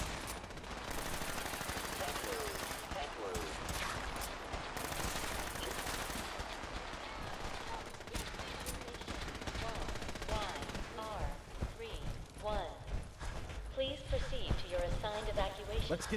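Rapid pistol and automatic gunfire crackles through a Fallout 4 firefight, dense and continuous with bursts of shots layered under someone talking.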